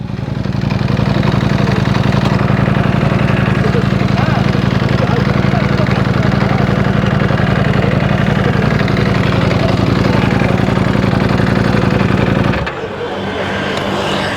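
A vehicle engine idles steadily and loudly after starting, holding a constant low drone for about twelve seconds before it abruptly cuts out, leaving quieter background noise.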